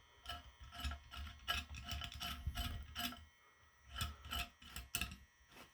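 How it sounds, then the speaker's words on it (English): A bolt is screwed into an axial flux wind turbine rotor, giving faint, close ratcheting and gritty rubbing clicks in uneven bursts, with short pauses between turns. "screw it in from the back"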